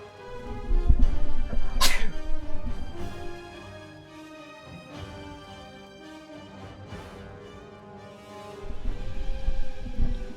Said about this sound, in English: managed to get my face away from the microphone before I sneezed